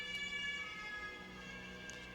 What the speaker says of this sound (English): Definitely just came through the headset, that ambulance, that fire thingy.